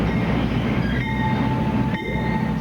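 A train rolls past with a loud, continuous rumble, and thin, steady squealing tones ride above the low roar.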